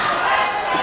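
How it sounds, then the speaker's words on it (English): Wrestling crowd at the Forum during a PWE World Title match, a brief dense roar of cheering and shouting from a large audience, sustained and fairly loud. "The crowd sounds like they are split, about 50-50 for Gory, 50 for for the Neon Ninja Facade here tonight."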